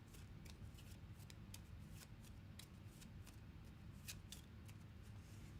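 A deck of cards being shuffled at a tabletop during a solo board-game session: a steady riffling rustle with repeated sharp flicks and snaps, close and continuous, with no talk over it.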